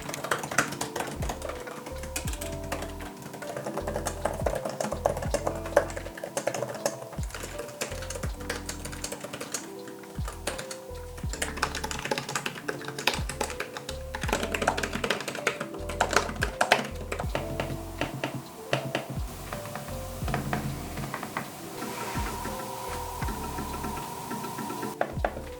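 Typing on the 2025 Asus ROG Flow Z13 keyboard laid flat on a desk, set against other keyboards: steady, close, rapid clacking keystrokes with shifting tone and loudness across the different boards, running continuously with no voices.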